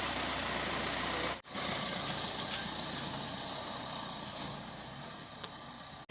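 A car engine idling steadily, a constant close rumble and hiss that holds for several seconds, broken by two brief dropouts, with no talk.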